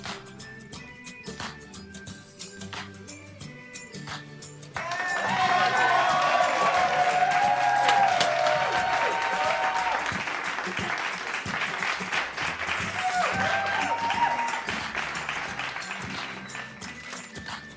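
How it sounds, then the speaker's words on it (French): A crowd applauds for several seconds, steady dense clapping with some cheering, rising after a stretch of quieter background sound and continuing throughout. "Accueillons-la sous les applaudissements."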